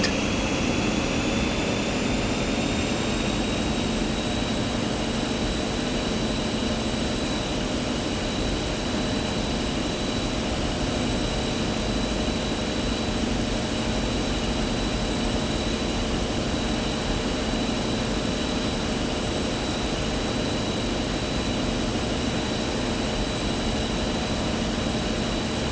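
Valenta HST diesel train in Train Simulator 2016 accelerating at full power toward 125 mph line speed, a steady loud engine drone with a high whine held throughout, no talk.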